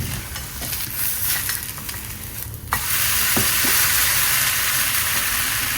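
Beef patties frying in a hot pan, a steady loud sizzle that swells after a few seconds with a couple of small pops, no voices.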